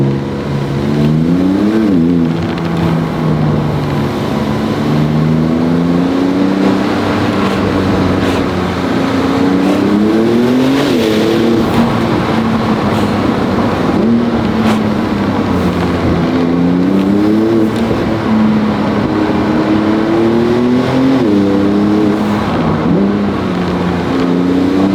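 A Porsche 911 (992) Turbo S drives through a forest, its engine loud and close, repeatedly revving up and easing off in rising and falling waves for the whole stretch, with no talk.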